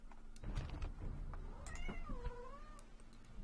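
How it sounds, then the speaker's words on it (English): A cat meows in the Divide & Conquer V3 strategy game, with several drawn-out, wavering meows and yowls over a steady low background hum, fairly close and clear. "Oh, there's the cat."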